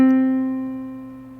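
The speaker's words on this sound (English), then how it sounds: "So let's hear what this would sound like on the keyboard." A single sustained C note on a keyboard rings clearly and alone, slowly decaying over about a second and a half.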